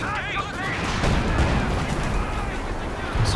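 Artillery concentration barrage in Company of Heroes 2 during a 2v2 match, a dense run of booming shell impacts and crackling fire filling the moment, with a commentator's voice running underneath.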